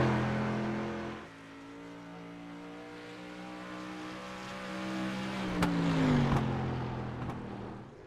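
The No. 54 street stock race car driven by Brandon Elvis runs a qualifying lap at Nashville. Its engine drones loudly and steadily at speed, then the pitch sweeps down and rises again late in the lap, with no talk.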